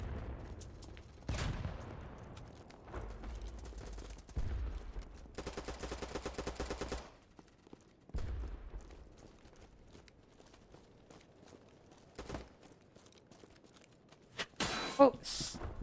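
Repeated sniper and rifle gunfire in an urban shooter video game, loud cracks and bursts spread through the stretch with a sustained volley in the middle, over quieter game ambience.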